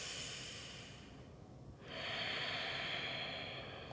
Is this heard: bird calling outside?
no